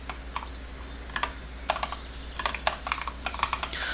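Steady, fairly quiet typing on a computer keyboard, with irregular clusters of clicking keystrokes that grow busier toward the end, no voices present.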